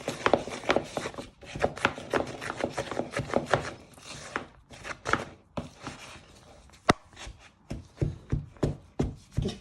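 A wooden spoon creaming butter icing in a bowl, making rapid repeated scraping, thudding strokes close by, steady at first, pausing briefly midway, then slower, more distinct beats.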